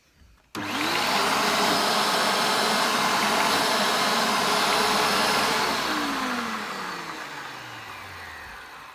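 A Panasonic MC-E44 700W vacuum cleaner switches on abruptly and runs with a loud, steady whine, then its pitch slides down as the motor begins to wind down toward the end.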